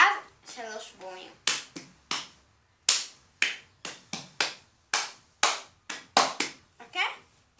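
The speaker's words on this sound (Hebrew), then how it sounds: "לוקחים ועושים 2 מחיאות כפיים ואז 3 בומים" Cup song rhythm played by hand on a tabletop: sharp hand claps and thumping plastic cup bumps in quick, repeating bursts, close and crisp, with a voice speaking at the start.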